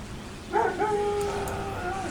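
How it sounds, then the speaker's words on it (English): A dog in Warhammer 40K Dawn of War Soulstorm gives a short, close bark followed by a drawn-out yelping howl, loud against a low background hum. "That dog barks at literally everything."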